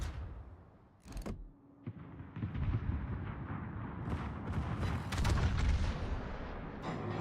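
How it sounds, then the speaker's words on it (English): A warship's rear guns fire in a naval video game, sending out a sharp blast and then heavy rolling booms and rumbling explosions that build and keep going. The volley is loud and dense, with cracks and deep thuds overlapping. "Rear guns fire!"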